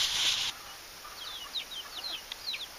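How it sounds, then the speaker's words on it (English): Baby chicks peep in a series of faint, high, quick chirps scattered over a quiet background, following a brief burst of noise at the start. "Hello, little chick."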